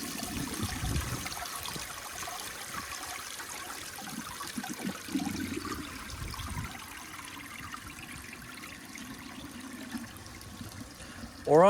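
A restored 1978 Eljer Emblem toilet flushes with grocery bags in the bowl, giving a steady wash and trickle of water at moderate level that runs for several seconds before a sudden louder burst at the end.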